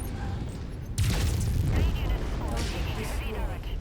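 Missiles and gunfire in the MechWarrior 5: Mercenaries video game, a burst of booming, crackling fire that erupts suddenly and rumbles on loudly, with a heavy low-end explosion and rattling shots layered together.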